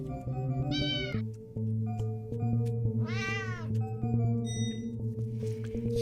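A person imitates a cat, producing a few drawn-out meows over a steady electronic hum during a gaming session, with no other talk.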